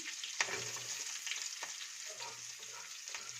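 Chopped onion and chili sizzle and fry steadily in a pan with light stirring scrapes, a continuous crackling hiss close by with no voices.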